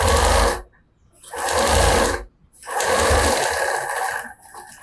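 A sewing machine runs three loud bursts while it stitches quilting lines across fabric for a cloth napkin holder, with brief pauses between the runs.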